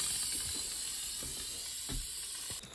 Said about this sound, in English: We're gonna turn the pot off and send it to venting and let it vent completely.